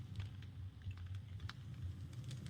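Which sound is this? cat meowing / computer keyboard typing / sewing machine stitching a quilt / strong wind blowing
computer keyboard typing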